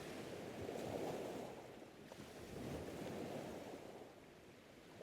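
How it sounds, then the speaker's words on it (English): Ocean waves surge and recede against the shore in slow, broad swells, a soft continuous wash rising and falling twice with a windy hiss and no voices. "he stands and lets the waves wash over him"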